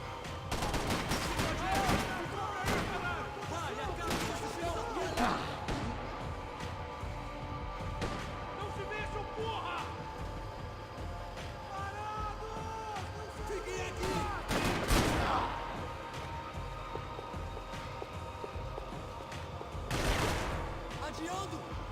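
Video game gunfire crackles in steady bursts and volleys throughout, with louder shots standing out, while a player talks and shouts over the action.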